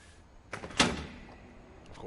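A secret door slides open in What Remains of Edith Finch, a short heavy wooden thunk and scrape near the middle, with faint ambient sound around it.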